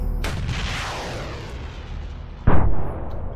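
Two heavy shots from a weapon mounted on an MRAP in Arma 3, each a loud close boom with a long rolling tail, spaced about two seconds apart.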